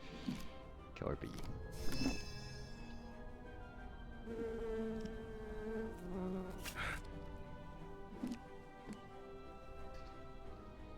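Killer bee enemy in the video game Popup Dungeon, a faint buzzing drone running under steady talking, with a few clicks and game effects around it.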